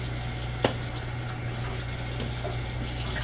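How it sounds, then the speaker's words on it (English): Cheesy sausage and potatoes stirred in an Instant Pot, a soft, steady scraping and gurgle over a constant low hum, with one sharp clack of the spoon against the pot near the start. "she's gonna stir it all up"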